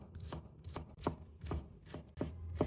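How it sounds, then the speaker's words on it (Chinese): A knife chops peeled ginger into thin strips on a cutting board, five or six distinct, close thuds in a steady rhythm. "准备1块去皮的生姜，把它切成薄片， 再切成细丝"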